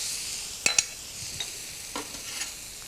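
Salted black beans, coarsely chopped, hit hot, slightly smoking groundnut oil in a wok, giving a steady broadband sizzle with a few sharp crackles and clinks from stirring, close and fairly loud with no talking.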